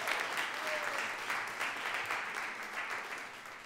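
An audience applauds at a live show, with dense, steady clapping that carries on without a break and eases off slightly toward the end.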